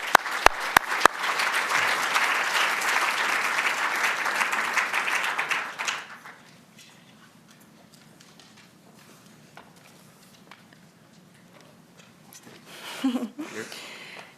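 Audience at an architecture lecture applauds to welcome the speakers, dense clapping for about six seconds after a few sharp claps, then a quiet room with faint shuffling and a brief voice near the end.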